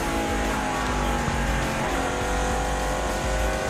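NASCAR stock cars roar by at a racetrack, a loud continuous engine howl with a passing car rising over the steady drone of the field.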